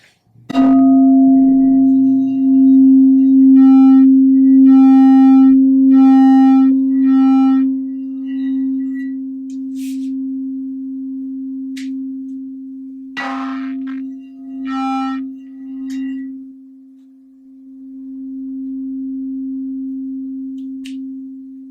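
A singing bowl rings one pure, sustained C note that hums steadily for a long time, slowly wavering, with a few faint taps and rustles nearby.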